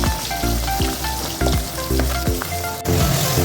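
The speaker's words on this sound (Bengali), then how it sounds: "এবার এগুলোকে আস্তে আস্তে এক এক করে ভাজবো, ভেজে তারপর মাছটা রান্না করবো।" Pabda fish coated in turmeric and salt fry in a pan with a loud, continuous sizzle, punctuated by repeated sharp clinks and taps of a utensil at a steady rhythm.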